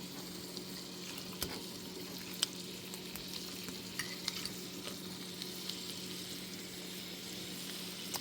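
Turkey heats in a pan on the stove with a soft, steady sizzle and occasional faint stirring clicks, quiet and continuous throughout.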